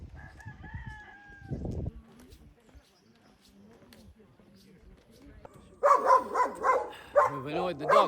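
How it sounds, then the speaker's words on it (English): A dog barks during a hike on a road in Gran Canaria, a few brief barks early on, while a rooster crows nearby and a loud burst of outdoor voices and movement follows near the end. "We've annoyed the dog."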